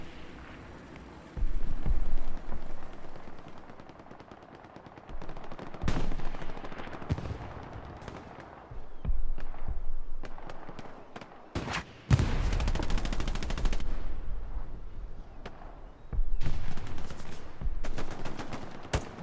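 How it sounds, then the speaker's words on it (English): Gunfire in the World War II shooter Hell Let Loose during a competitive match, with repeated bursts and sharp shots, some heavy loud blasts, alternating with quieter stretches of distant fire. "Commander Cryptonox looks to be gotten shot out of it"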